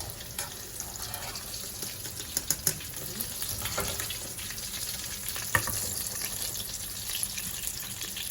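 Golden brown tofu sizzles and fries steadily in a pan while being stirred, with occasional clicks and scrapes of the utensil, close and continuous.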